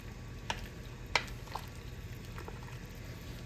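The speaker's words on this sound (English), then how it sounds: "We're just going to slowly drop these potatoes in there and let them cook till they're completely done." Potatoes cook in a pot of boiling water alongside a batch of green beans, giving a soft continuous bubbling with a few sharper pops and splashes, quiet and close with no talking.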